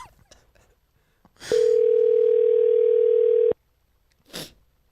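An outgoing phone call rings out as a single steady electronic tone held for about two seconds, loud and close, with short noises of movement before and after it.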